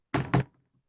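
Two quick heavy thuds of a locked door being tried and rattled at a play reading, close and loud, followed by a brief faint trailing sound and silence.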